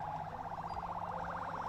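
An ambulance siren near the Rafah border on the Palestinian side, a rapid warbling wail held steadily over a low background rumble, fairly clear and without speech.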